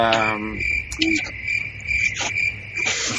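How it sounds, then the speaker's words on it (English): A steady, high cricket chirp runs the whole time, close and continuous, with no one speaking. "Mike put cricket sounds in that spot right there."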